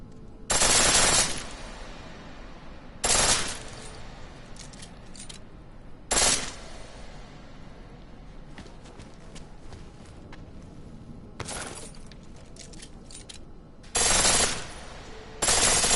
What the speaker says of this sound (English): Pistol in full auto will take down targets fast, but it'll burn through your ammo.